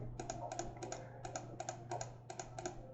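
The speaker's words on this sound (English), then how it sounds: "So just kind of clicking through this material" Rapid mouse clicks while paging through SketchUp's materials paint bucket, arriving in close, crisp bursts with short pauses between groups over a steady low hum.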